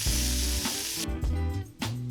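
Carne asada steak sizzles hard in a hot pan, a loud continuous frying hiss up close with a few clattering shifts as the meat is moved, no talking.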